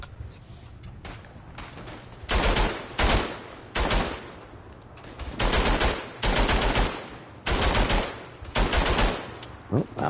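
Rapid machine-gun fire from a World War I video game sounds in loud sustained bursts separated by short pauses, close and dominant, with faint talk in the gaps.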